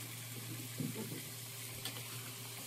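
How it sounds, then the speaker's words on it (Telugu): Cauliflower and potato pieces are stirred into onions frying in oil, giving a soft, steady sizzle with a few faint clatters of stirring, low in level against a background hum. "ఆనియన్స్ ఒక 2 నిమిషాలు మాత్రమే వేగిన తర్వాత మనం కట్ చేసి పెట్టుకున్న కాలీఫ్లవర్ అండ్ ఆలు వేసుకొని బాగా కలుపుకోవాలి."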